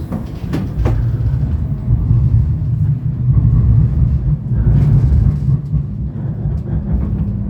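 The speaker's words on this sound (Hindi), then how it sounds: "हमारी दूसरी ट्राम भैया" A Düsseldorf city tram runs with a steady, loud low rumble of wheels and motor, a few brief clanks near the start, and no talking.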